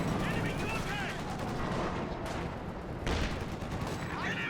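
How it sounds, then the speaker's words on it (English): Artillery shells and gunfire pound a machine gun position during a Company of Heroes 2 2v2 match, a dense, continuous clatter of shots and blasts with louder bursts near the middle, with a commentator talking over it. "This barrage coming through onto the machine gun."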